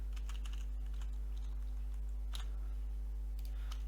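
Code being typed on a computer keyboard, a quick run of light clicking keystrokes close by over a steady low electrical hum, with no talking.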